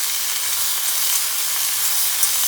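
Cauliflower sautés in a hot pan with a steady, loud sizzle and hiss that runs unbroken throughout.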